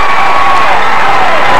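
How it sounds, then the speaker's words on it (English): A football crowd at a 1994 high school game, Buckeye Local vs Chardon, roars in a loud, sustained wash of cheering and shouting to rally the Panther defense, heard from within the stands. "The Panther crowd's trying to get the defense up."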